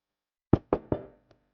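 Three firm knocks on a door in quick succession, close and distinct against silence, followed by a faint fourth tap.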